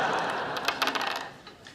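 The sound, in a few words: Dungeons and Dragons dice being thrown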